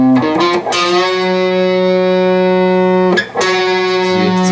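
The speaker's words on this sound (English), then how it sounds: "See, it's the sound of the 9th fret that I'm bending to." An electric guitar note on the A string bent up to the pitch of the ninth fret, sustained and slightly distorted, heard twice with a short break between, close and loud, with no talking.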